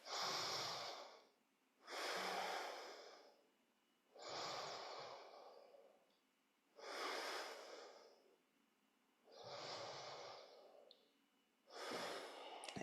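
Slow, deep breathing during a yoga practice: six long, close breaths at a steady, unhurried pace, with a clear gap between each one.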